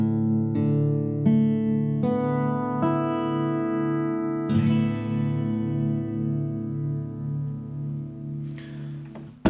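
Acoustic guitar open strings in drop D tuning with the G string raised to A, plucked one at a time from low to high and left to ring together into a sustained, shimmering chord that slowly decays.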